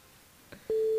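A telephone line rings out during a morning radio show call to a listener: a couple of soft clicks, then a steady, loud single-pitch tone that continues to the end.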